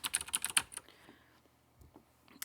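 Quick burst of keystrokes on a computer keyboard, about seven close clicks in the first second, followed by quiet room tone and a final isolated tap.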